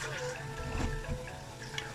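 Water pours steadily into a cooking pot on a home kitchen stove, a continuous close splashing stream with soft clatter and faint background noise.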